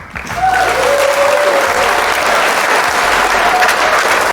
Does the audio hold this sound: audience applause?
yes